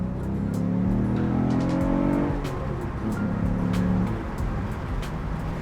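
A car driven hard on a brand-new stage 2.5 clutch, its engine revving loudly and steadily with rising and falling pitch through the shifts, close and continuous without talk.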